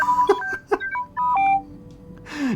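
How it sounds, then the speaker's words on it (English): A droid in the Knights of the Old Republic video game chirps out a rapid string of electronic beeps and warbling tones, near and clear, ending in a falling whistle with a burst of hiss. "he just says beep, boop"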